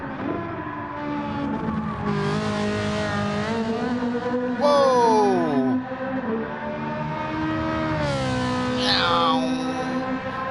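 A race car in Gran Turismo 7 drives continuously with a strong engine whine that climbs through the gears, then dips and rises again, with a brief tire squeal midway. A voice exclaims over the engine.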